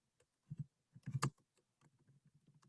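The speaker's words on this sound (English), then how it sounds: "I'm typing this into the chat." Typing on a computer keyboard, quiet and close: a few separate keystrokes, then a quick cluster of clicks, then lighter scattered taps trailing off.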